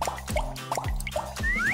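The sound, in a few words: water dripping from a leaking tap in the Minecraft video game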